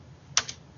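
A couple of quick keyboard keystrokes, one sharp click followed by a softer second, close and fairly quiet, with no talking.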